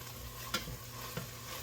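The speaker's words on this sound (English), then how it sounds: "now what I'm putting in here is the onions" Onions cooking in a pan, with a steady close sizzle throughout and two brief scraping stir strokes partway through.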